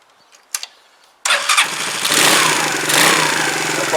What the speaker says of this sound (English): The bike starts no problem.